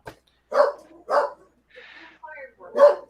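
A dog set off by fireworks barks in several loud, close yaps spaced about half a second apart, with softer yips and whimpers between them and a final sharp bark.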